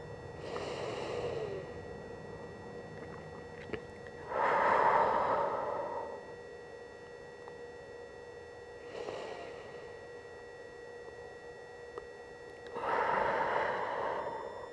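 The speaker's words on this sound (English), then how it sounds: "Breathing in through the nose," Slow, steady breaths during a posture therapy routine, drawn in through the nose and let out through the mouth, come as four soft airy swells spaced several seconds apart over a quiet background hum.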